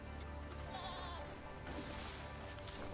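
Goat in a video game letting out a short, nasal bleat over a steady bed of game ambience and background music, no talking.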